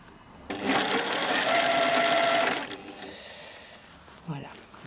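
A sewing machine stitches the seam of a small hooded vest for a 36 cm baby doll, a steady fast whirring run of about two seconds that stops abruptly, followed by faint handling clicks.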